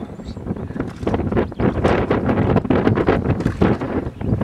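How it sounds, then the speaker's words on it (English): Strong wind buffets the microphone outdoors on a warm, sunny day in France near volcanic rock and wildflowers, a steady loud roar with gusty surges and no voices. "The wind feels so great."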